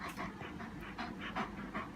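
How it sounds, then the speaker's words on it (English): A big 120-pound German Shepherd pants close by in quick, steady rhythmic breaths that continue without pause throughout, with no voices over it. "Big, giant, 120-pound German Shepherd."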